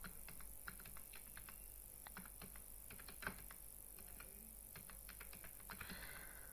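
Rapid keyboard typing as sales figures are entered into an Excel spreadsheet, a steady run of light, close key clicks with a few louder taps, alone with no talking.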